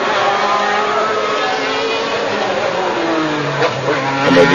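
Formula 1 cars race at the 1991 Australian Grand Prix in Adelaide, their engines a continuous loud roar with a pitch that shifts as cars pass, with no voices over it.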